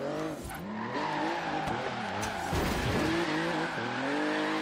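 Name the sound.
BMW i8 drifting with tire squeal in video game Forza Horizon 3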